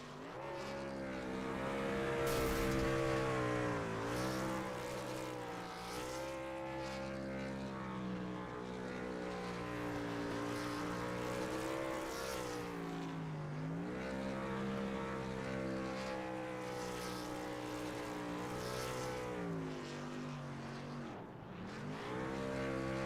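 Race truck engine in an iRacing truck series event at Atlanta, a sustained loud harmonic engine roar with rising and falling revs over about twenty seconds as the winner celebrates on the front stretch, no talk.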